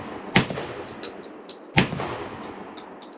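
A Charles Daly 601 DPS semi-automatic shotgun firing 1 oz high-velocity steel shot outdoors, two sharp loud blasts about a second and a half apart, each trailing off in a short echo.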